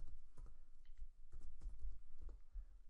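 Keys tapped on a computer keyboard while a database field name is entered, with irregular bursts of clicks, close and fairly quiet, alone without talk.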